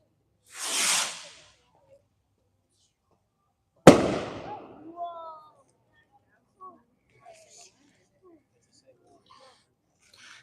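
Fireworks launched at an Indiana demo night: a loud whooshing burst near the start, then a sharp bang a few seconds later with crackling trails, followed by faint scattered pops and distant crowd sounds.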